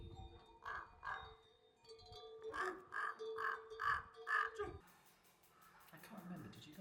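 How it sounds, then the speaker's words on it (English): A crow near Everest Base Camp caws repeatedly, a run of loud, harsh calls in two bursts, then quieter background noise with faint voices. "This crow is the most talkative bird I've ever seen."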